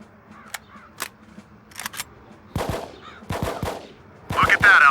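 An enemy soldier fires at a squad in cover in the Xbox game Full Spectrum Warrior, sharp isolated shots at first building into clustered bursts of rifle fire that grow louder toward the end, with faint voices in the background.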